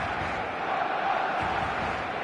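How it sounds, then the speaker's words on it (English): A dense stadium crowd roaring before a football match in eFootball, a continuous loud wash of cheering and chanting that swells slightly midway, with commentary-like voices mixed in. "The noise is just about reaching a crescendo here as these two sides get ready to lock horns."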